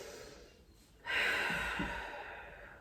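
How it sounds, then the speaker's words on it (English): A deep breath during a yoga session: a quiet inhale, then a louder, drawn-out exhale through the mouth that trails off slowly, close to the microphone. "Take a nice big inhale and big exhale"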